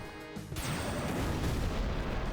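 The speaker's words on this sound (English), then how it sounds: "Meteor Strike, is that worth it?" A heavy, rumbling explosion from the Meteor Strike attack in Final Fantasy X, opening with a sharp burst and rolling into a sustained, dense roar that fills the whole moment.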